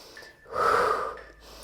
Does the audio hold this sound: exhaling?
yes